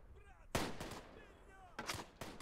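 Gunfire in the World War I shooter Tannenberg, a sharp nearby shot followed by a few more cracking reports, then a quick cluster of shots near the end, all over quiet ambient wind and distant battlefield noise.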